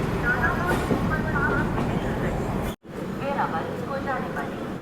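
The Danapur Superfast Express rumbles steadily as it arrives at Prayagraj, a continuous rail roar with a brief dropout partway through. A voice talks over it.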